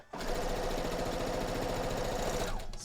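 A sewing machine runs steadily for a few seconds while stitching quilt fabric for a Wonder Woman quilt, a loud, even mechanical whirr with rapid needle chatter that starts abruptly and slows at the end.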